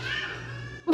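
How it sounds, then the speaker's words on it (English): Two pet cats fight in play, giving a drawn-out, strained meow or yowl that fades, then a sudden short loud burst at the end. "It's just like cats murdering each other."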